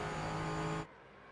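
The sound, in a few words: race car engine accelerating in iRacing video game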